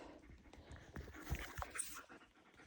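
A dog panting on a hot-weather walk, quick faint breaths with soft rustling and footsteps, fairly quiet and close.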